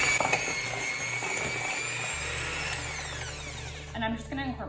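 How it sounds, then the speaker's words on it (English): Stand mixer creaming butter and sugar in a large bowl, a steady whirring motor hum with a rising whine, continuous and close, which shifts pitch partway through before a few clattering sounds at the end. "Using my stand-up mixer, I'm going to cream the butter and sugar real quickly in the large bowl."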